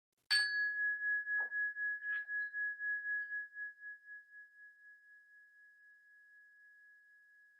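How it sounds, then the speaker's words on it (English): A single meditation chime is struck once, giving a bright clear ring with a sharp attack and a long sustained tone that slowly fades over several seconds in a quiet room, with no voices. "And then one more strike of the chime, pulling us gently back as fully as possible into the immediate present."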